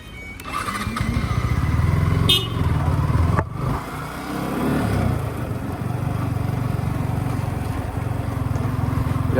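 A Yamaha R15 motorcycle engine runs steadily close by, a loud, buzzing idle that briefly rises and dips before settling back into a constant drone.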